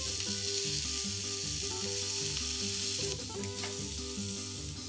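Burgers searing on a Greek grill, a steady crackling sizzle that holds throughout with no talk.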